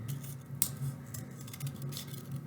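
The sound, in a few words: cutting out a paper fish shape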